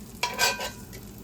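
Guanciale fries crisp in a pan, a soft sizzle broken by a few sharp bursts of stirring and utensil scrapes.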